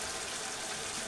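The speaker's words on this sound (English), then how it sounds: "Last thing I'm gonna add to the topping is the maple syrup." Maple syrup poured onto an apple cinnamon pancake topping gives a steady, soft liquid pour with a wet, even texture and no break, heard close and alone for about a second.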